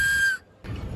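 A child's plastic toy whistle blown in a bright, shrill tone that holds for a moment, drops out briefly, then sounds again more thinly, close and fairly loud with no talking.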